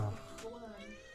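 A house cat gives a short, faint meow, wanting to be let in, over a quiet room tone. A brief voice comes in alongside it.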